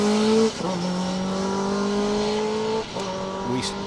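Rally car 79 on a special stage of the Manx Rally, engine note holding a steady high pitch and shifting once or twice as it drives past, loud and fairly close.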